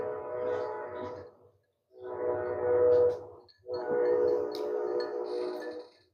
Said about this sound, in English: We got a train station nearby, and the train is coming through.